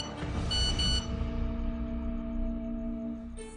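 A phone message notification tone sounds as a sustained electronic chime with bright ringing harmonics that fade gradually, heard alone and fairly quiet, with a brief click at the end.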